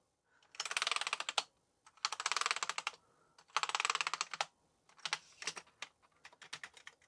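Rapid key presses on a repaired Amiga 600 keyboard come close and crisp in several bursts of fast clicking, separated by short pauses, with no speech.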